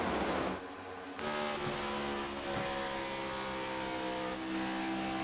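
Race car engines in an online video game race drone steadily with whining harmonic tones that shift in pitch as cars pass, continuous and moderately close, no talk.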